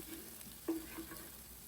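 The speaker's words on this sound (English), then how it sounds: "Next goes in 1 tablespoon of ginger garlic paste, and I saute that for about 1 to 2 minutes" Ginger garlic paste sizzles softly in a hot pan, with a brief stir or clink partway through, faint and steady with no voices.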